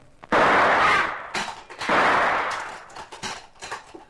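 Tommy gun machine-gun fire in a radio drama: two loud, sustained bursts of rapid fire, close and harsh, followed by scattered shorter cracks and clatter that fade out.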